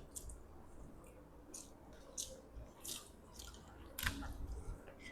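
Someone chews a mouthful of dal and rice, giving close, soft, wet biting and squishing sounds in an uneven rhythm, quiet and without talk.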